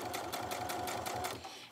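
A sewing machine running a short back stitch on a large zippered project bag, its needle chattering in a quick, even rhythm of about a dozen pulses before stopping, close and fairly loud.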